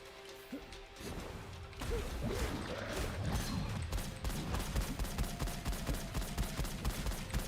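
Weapon fire in the roguelite shooter Gunfire Reborn: a steady, dense stream of rapid shots and impacts that keeps going for several seconds after a short quieter start, with no talking over it.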